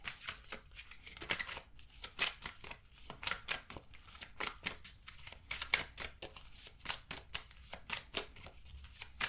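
Tarot cards being shuffled and drawn from a deck, with close, crisp riffling flutters and soft card snaps repeating in quick bursts over a quiet room, no voice.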